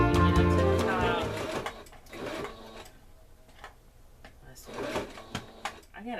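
Sewing machine stitching a placemat handbag, a short buzzing run of stitches followed by quieter clicks and handling noises, with someone talking over the start.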